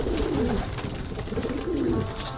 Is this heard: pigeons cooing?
yes